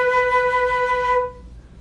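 One held B note sounds clearly and alone for just over a second, bright with layered overtones, then stops abruptly.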